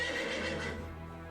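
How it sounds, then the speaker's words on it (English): A horse's shrill whinny of pain in a video game: one loud, strained neigh that fades toward the end, heard alone without talk. "The horse screams and staggers."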